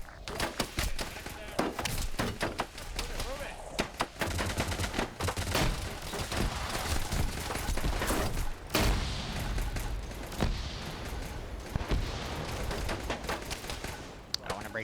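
Rapid bursts of gunfire fill an Arma military operation as a squad pushes into a compound, dense volleys and single shots overlapping throughout at close range, with radio chatter and talk running underneath.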